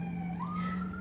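An ambulance siren wails faintly in the distance, its pitch sliding upward once over a steady low hum, with no voices.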